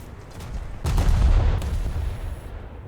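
Naval gunfire from the Trento heavy cruiser in a warship video game: a heavy, booming salvo bursts out about a second in, rumbles on, and a second blast follows just after, loud and close.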